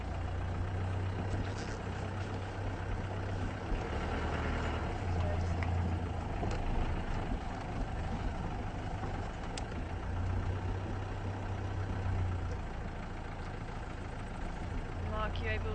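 Safari vehicles idle together at a night wildlife sighting, a steady low engine rumble that runs throughout with quiet voices murmuring over it.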